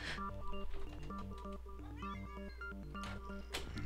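A pet cat meows softly, a few faint drawn-out cries over a steady low background hum with overlapping tonal sounds.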